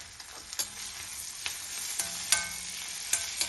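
Finely chopped tomato sizzles in a pan with sautéed onions in a home kitchen, a steady bright frying hiss broken by sharp scrapes and clicks of stirring, close and loud.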